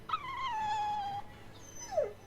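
A dog in the Tales of Berseria video game lets out a long, drawn whimper that slides downward, then a short second whine, close and clear over a quiet background.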